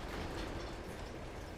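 A train rolling along in the video game Uncharted 2, during the Locomotion chapter, with a steady rumbling wash of wheels and rattling cars, even and moderately quiet throughout.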